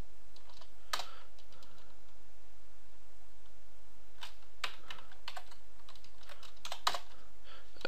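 Keys clack on a computer keyboard while a short word is typed into a text file on an Ubuntu Linux machine. Scattered bursts of close, crisp keystrokes are separated by quiet pauses.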